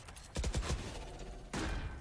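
Bursts of Stinger submachine-gun fire in a Valorant esports match, a quick rattling volley followed by a second sharp burst after a short pause, loud and close with no talk over it.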